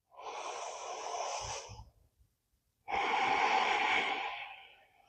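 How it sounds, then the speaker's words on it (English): Heavy breathing as someone comes down onto their back after a core-focused yoga session, two long, loud, close exhalations separated by a brief pause, with a faint snort at the end of the first breath. "allowing your breath to return to normal"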